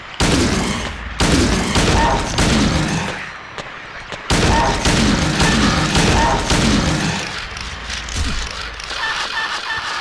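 Repeated gunfire in the 2001 video game Silent Hill 2, with loud, broadband bursts fired in rapid clusters across the clip and short gaps between volleys. Ambient in-game noise sits underneath, with no one talking.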